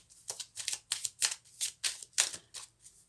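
Tarot-style cards being shuffled for an astrology reading, with about ten quick, crisp riffling bursts in a steady rhythm, close and fairly soft with no talk.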